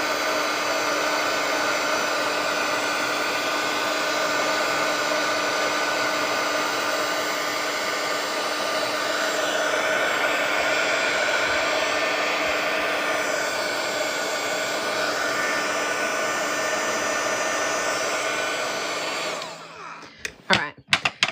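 A hair dryer blows steadily at close range over freshly painted watercolor for about twenty seconds, a constant loud whirring hum, then switches off with a few handling clicks.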